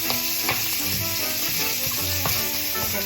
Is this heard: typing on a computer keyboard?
no